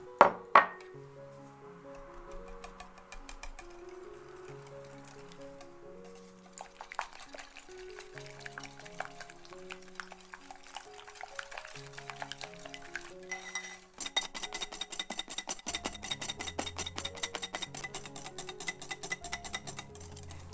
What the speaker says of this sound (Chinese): 蛋白中加入筛过的糖粉，用手或机器搅打都可以。